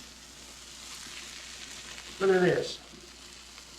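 One egg fries in a pan with a steady, close sizzle, and a brief spoken remark comes over it.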